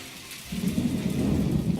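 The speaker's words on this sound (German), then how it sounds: "Boah, es gewittert wirklich hier." A thunderstorm in the video game My Time at Portia: a low rolling rumble of thunder swells in after a moment over a constant hiss of rain.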